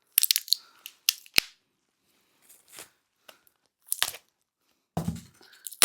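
Packing tape ripped off a heavily taped parcel, in sharp crunchy tearing bursts, close and loud, with uneven quiet gaps between pulls and no talking.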